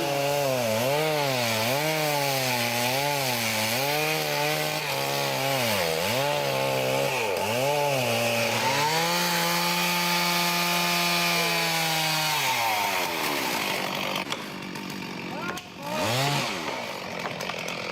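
Chainsaw felling a damaged elm, its engine revving up and down in repeated surges and then holding a steady high whine while cutting, loud and close, before dropping away near the end.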